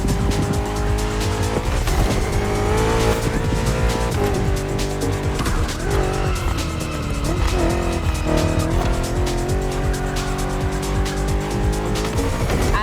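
BMW M CS cars race in The Crew Motorfest, engines screaming through rising and falling gear changes with repeated tire squeal and skidding, loud and continuous with no talk.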